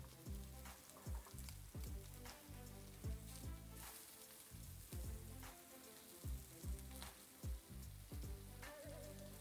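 Vegan sausage sizzles in a skillet with a steady, crackling fry, punctuated by faint bumps and scrapes as the pieces shift in the pan.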